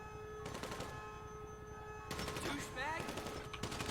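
Enemy gunfire in GTA 5, several loud bursts of shots separated by brief gaps, with game sounds and the crackle of the fight around them.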